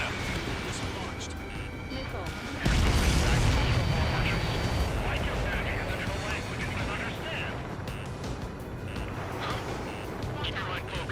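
Missiles hitting transports in Ace Combat 7, with a heavy boom partway through followed by a sustained rumbling roar of explosions and jet noise, loud and continuous, with a voice talking over it.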